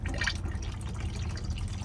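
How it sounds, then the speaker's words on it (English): Flush fluid is pumped into the toilet of a Nu Venture Rio Micro 65-foot boat after a button is pressed, making a short, watery gurgling rush over a low pump hum, close by. "see the flush fluid pumps around into the actual toilet itself"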